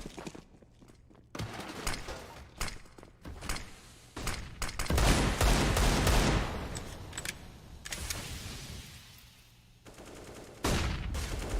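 Gunfire in Counter-Strike on the Mirage map comes in bursts of rapid shots, with quieter footsteps and pauses between volleys; loud and close.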